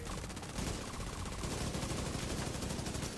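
A G36 rifle in the video game The Division 2 fires in a sustained, loud automatic burst, dense and continuous, with no voices.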